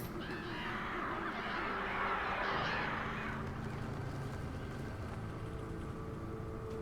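A flock of crows cawing in the Alan Wake video game, harsh overlapping caws swelling loud in the first few seconds then thinning out under a low ambient rumble.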